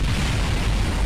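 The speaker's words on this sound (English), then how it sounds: "that's quite the explosion" A rocket explodes in the video game Kerbal Space Program, a dense, loud, continuous roaring blast filling the whole moment with no talk.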